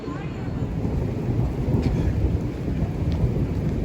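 Thunder rolling during rain in Curitiba, a continuous low rumble over a dense hiss of rainfall, fairly loud and sustained throughout.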